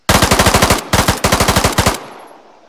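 A PP2000 submachine gun from the RHS game mod fires two loud, close bursts of rapid automatic shots, a brief pause between them, ending with a short fading echo.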